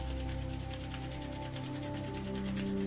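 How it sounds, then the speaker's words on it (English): Palms rubbed together in a rapid, steady back-and-forth rhythm, a soft close-up friction swish repeating evenly under a quiet background hum. "Now rub the palms in front of you."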